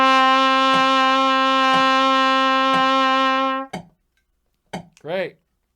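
A trumpet sustains a steady D note in a method-book exercise, three long held tones separated by brief breaths, loud and close, followed by a couple of short spoken words.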